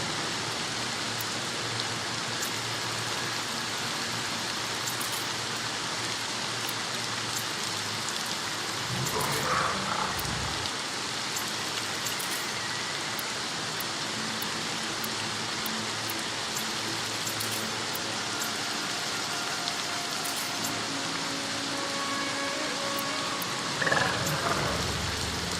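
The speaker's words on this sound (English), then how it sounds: "Throw in a little rain" Steady, even rain hisses throughout in the game Horizon Forbidden West, a continuous wash of drops on surfaces with a brief swell near the middle and a faint knock near the end.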